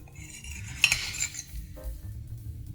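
An over-hard fried egg is cut open with a metal utensil, giving a soft scrape and a brief clink of cutlery against the plate around the midpoint, with faint low background rumble throughout.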